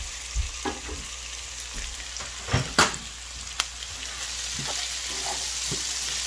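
Peppers and shrimp fry in a pan, a steady soft sizzle broken by scraping stirs and occasional sharp clacks of a utensil against the pan, close and moderately quiet.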